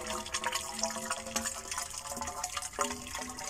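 Water pours steadily from an 11-litre watering can into a manual water-drilled borehole in sand, with a continuous trickling splash and a few ringing drips, heard alone and fairly quiet.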